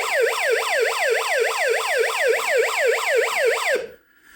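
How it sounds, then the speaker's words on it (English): A siren in the vector arcade game Major Tom makes a rapid wail that sweeps up and down repeatedly, loud and steady, then cuts off abruptly near the end. "And look, a siren."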